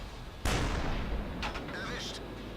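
A single sharp, booming cannon shot from a Pz. S35 tank in World of Tanks. A roar of echo and rumble follows, then fainter distant battle noise.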